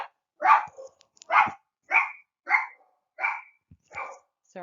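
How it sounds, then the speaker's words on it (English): Dogs bark at home in a series of about seven sharp, evenly spaced barks, close and fairly loud, with short silent gaps between them and no talking. "my dogs have to bark at everything that happens"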